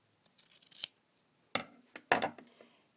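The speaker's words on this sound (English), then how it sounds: "I'm going to cut one for you" Scissors cut ribbon for hair bow tails: a quick run of close, crisp snips, then two sharper cuts after short pauses, in an otherwise quiet room.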